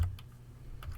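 Keyboard typing in a short burst of a few quiet, separate keystroke clicks, with a near-silent gap between the first pair and the last pair.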